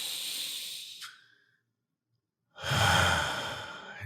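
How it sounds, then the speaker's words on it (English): A person takes a slow, deep breath during a guided meditation: a soft airy inhale tapers into a quiet pause, then a fuller, breathy exhale follows, close and alone. "Take a nice deep breath here."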